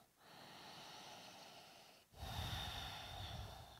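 Slow, audible breathing held in a standing forward bend during a backbend yoga sequence: one long soft exhale, then a stronger, rougher inhale through the nose, close and alone.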